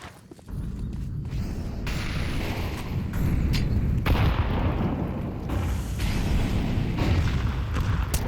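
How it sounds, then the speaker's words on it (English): Grenade explosions in Counter-Strike on the Dust2 map during a tournament match: loud, continuous rumbling booms overlapping one another for several seconds, with sharper blasts and scattered gunfire mixed in. "A lot of nades going down early does allow Micro to pick off Laxi going into round number 3"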